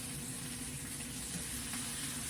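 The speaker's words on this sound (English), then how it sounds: "I am cooking some sausage" Sausage patties frying low and slow in a pan, a faint, even, continuous sizzle with no voices.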